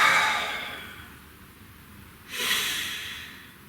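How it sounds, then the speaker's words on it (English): Deep breaths taken during a guided relaxation exercise: a long, airy exhale fading out, a quiet pause, then a sharp, fuller inhalation, close and alone with no talking. "Breathe."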